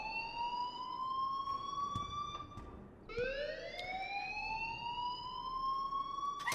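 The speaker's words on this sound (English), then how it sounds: "please turn off that alarm since that's your job" A school alarm in the video game Life is Strange rings continuously at a loud, steady level, a sustained electronic tone that drops briefly midway before rising again.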